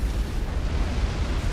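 Support commanders exploding in Supreme Commander: Forged Alliance, during a 7v7 match on a random map, give a continuous heavy rumble of overlapping booms. The blasts run together at a steady, fairly loud level with no separate bursts and no talking.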